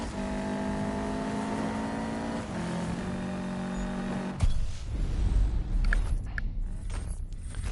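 Race car engine in the Need For Speed video game, a loud revving tone with harmonic whine holding steady, then a sudden shift to rougher noise with scattered clunks and bumps.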